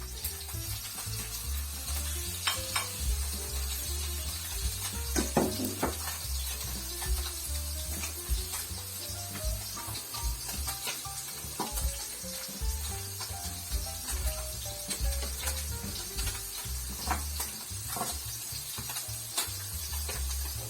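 Tofu, ground chicken and bitter gourd stir-frying in a pan give off a constant loud sizzle, broken by clinks and scrapes of a utensil stirring, with no talking.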